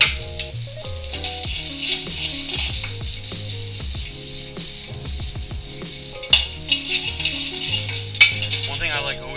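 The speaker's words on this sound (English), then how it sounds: "These veggies are nice and sauteed and heated up." Potatoes dusted in rosemary, garlic, roasted carrots and broccolini heat through in olive oil in a hot pan, with a steady sizzle under repeated clanking and scraping of utensils and pan, plus a few sharper knocks.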